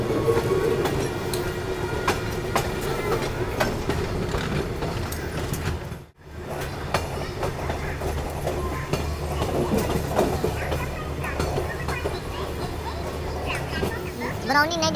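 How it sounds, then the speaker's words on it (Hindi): The Shramjeevi Superfast Express between New Delhi and Rajgir rolls along the rails with a continuous rumble and rhythmic wheel clatter, heard from inside a sleeper coach with background voices, briefly cut mid-run. "अपनी नई दिल्ली राजगीर अपनी श्रमजीवी सुपरफास्ट निकल चुकी है"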